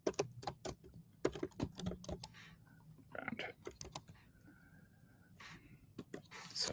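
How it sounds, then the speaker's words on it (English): Quick, close bursts of typing on a computer keyboard, with clustered key clicks in irregular rhythm separated by short pauses. "So let's just type in like virtual background"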